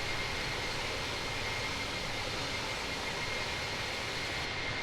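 Airbus A330 of TAP Portugal in Microsoft Flight Simulator, steady broadband jet engine roar filling the cabin at constant level with no variation in pitch, continuous throughout.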